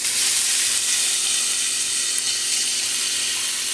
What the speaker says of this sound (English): we are going to render down some bacon